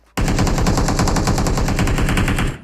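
A loud, unbroken burst of rapid automatic gunfire from the PUBG Mobile video game rattles on for about two and a half seconds, each shot tightly spaced and close up, with no voices over it.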